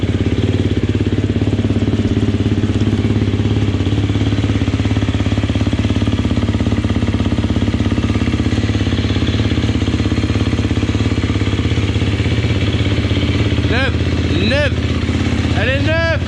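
A new motorcycle engine idles close and loud with a steady, rapid thump. Near the end a voice exclaims over it.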